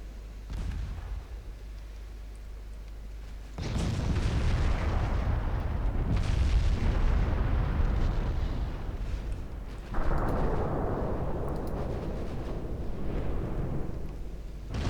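Heavy naval artillery salvos and shell impacts in the Ultimate Admiral Dreadnoughts warship game, loud booming blasts starting a few seconds in with a second strong burst later, sustained rumbling between them, no speech.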